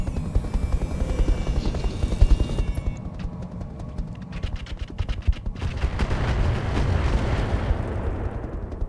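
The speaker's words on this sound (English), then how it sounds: "Okay, good rockets there." Rockets firing in the Roguetech mech battle game: a dense, rumbling barrage of rapid launches and blasts that swells and persists across the scene, loud and continuous with no talk over it.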